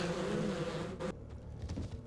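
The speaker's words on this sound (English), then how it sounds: "those bees are so wrong" Bees in the video game Torchlight make a dense, steady buzz that fills the first second. Then it thins into softer game noise with a few faint clicks, and nobody speaks.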